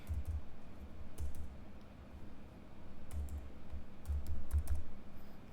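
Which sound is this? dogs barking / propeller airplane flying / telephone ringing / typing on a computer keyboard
typing on a computer keyboard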